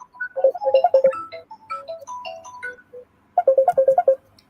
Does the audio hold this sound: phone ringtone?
yes